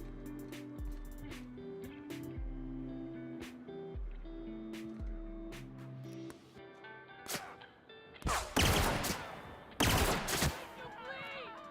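Gunfire in The Outer Worlds cracks out in a few loud, sharp bursts in the later part, over a game soundtrack of low tones and effects.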